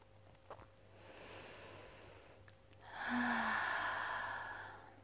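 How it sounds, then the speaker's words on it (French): Slow, deep breathing during a guided meditation, a soft drawn-in breath followed by a longer, louder exhale, close and quiet with no talking. "Tu continues à respirer profondément"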